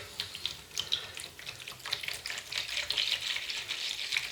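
Lukewarm water poured for a curry-coconut fishing boilie mix, a steady close hiss of running liquid with light splashing texture, continuous and moderately loud, no voices.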